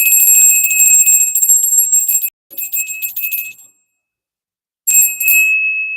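A small bell rung during a tarot reading tinkles in a rapid, bright metallic trill, stops, rings again more briefly, goes silent, then resumes near the end; close and clear with no talking.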